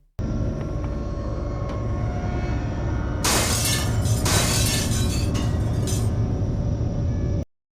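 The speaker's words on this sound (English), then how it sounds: "I had some glass shatter above me" Glass shatters loudly inside the game System Shock 2, a sharp burst of breaking and tinkling shards over a steady droning ambient hum, followed by a second crash and scattered clinks.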